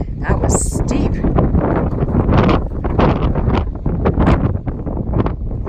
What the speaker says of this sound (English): I'm glad the wind is blowing against the hill